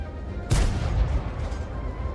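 A tank cannon in the World of Tanks AR mobile game fires a single heavy boom, close and loud, followed by a rumbling tail.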